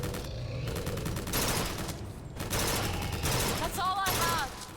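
Bursts of gunfire crack out in the video game BioShock Infinite, short volleys separated by brief pauses and set against a busy game soundscape. A voice talks quietly in the background between the shots.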